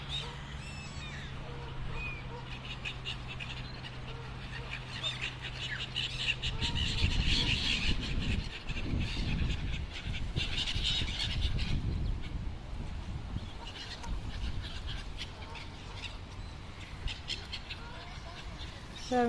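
Seagulls squawk and call repeatedly in a park by a fenced area where people feed the birds, with cries scattered over steady outdoor ambience and a louder stretch in the middle.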